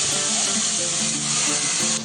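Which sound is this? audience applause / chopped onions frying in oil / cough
chopped onions frying in oil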